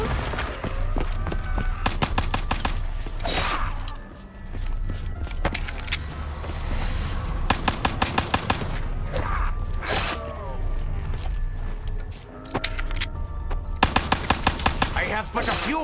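Rapid bursts of gunfire in repeated volleys, sharp clattering shots with metallic mechanism noise between them, loud and close, broken by brief pauses, with a voice speaking at times.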